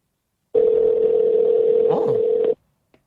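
A single outgoing phone ringback tone sounds as one steady, loud, unbroken burst of about two seconds, alone, with no talking over it.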